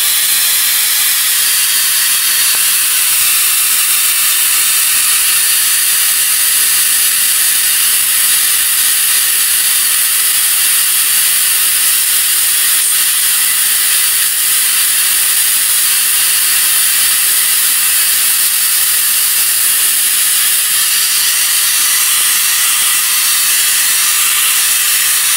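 A tuned spark-gap Tesla coil (SGTC) runs steadily, its spark gap giving a loud, continuous hissing roar without pause and with no speech over it.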